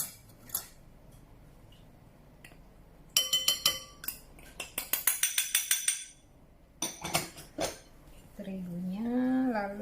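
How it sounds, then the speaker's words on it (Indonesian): Batter is whisked loosely in a bowl for Solo-style sausage rolls, the whisk clinking in quick rhythmic bursts against the bowl, close and clear, between quieter pauses, with a voice speaking briefly at the end. "Dikocok lepas supaya lebih mudah."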